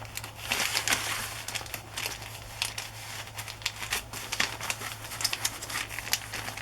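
A paper journal being pushed and wrestled into an airmail envelope gives a continuous crinkling and rustling of paper, close and moderately loud, with uneven scraping bursts.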